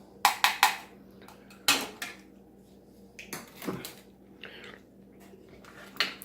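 Food being stirred in a metal pot at a campsite during an Australian CR1M outing, with sharp scraping clinks of the utensil against the pot in short bursts and a quieter clatter later, heard over a low steady hum.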